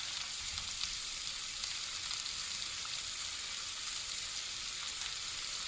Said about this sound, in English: Saute cabbage